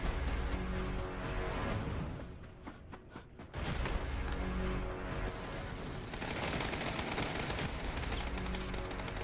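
Gunfire rattles through a PUBG night mode trailer, with dense bursts of automatic and single shots, a brief lull partway through, then sustained firing over a heavy low rumble.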